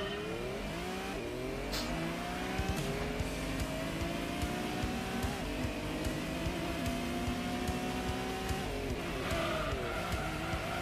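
A race car in the Gran Turismo video game drifts with a continuous loud engine roar that rises and falls in pitch, revving and shifting across the whole stretch alongside tire noise.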